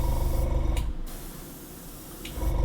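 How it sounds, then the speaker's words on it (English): A Ken Anglin airbrush hisses out a steady spray that fades to a softer hiss midway, with a couple of brief sharp bursts near the start and end. "Ken Anglin airbrush spray"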